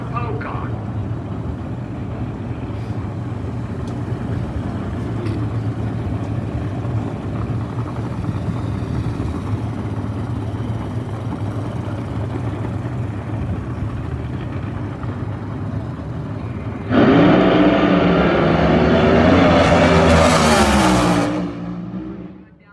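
A drag racing car makes a test-and-tune run at a drag strip during the March Meet 2021, with steady engine noise and crowd murmur, then a loud, close roar of the launch that cuts off sharply near the end.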